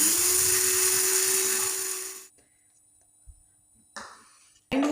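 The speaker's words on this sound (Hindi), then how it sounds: "मेरे पास ग्राइंडर मौजूद है, इसमें जो है मैं ये डालकर सारी चीज़ें अच्छे तरीके से ग्राइंड कर लूँगी।" An electric kitchen grinder whirs loudly at a high, steady pitch while grinding ingredients into powder, then cuts off into near silence, followed by a couple of soft clicks and a brief restart burst at the end.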